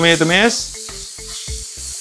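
Chili sizzles sharply in hot oil, with a loud initial burst of frying that settles into steady crackling and spitting, along with a few soft stirring clatters.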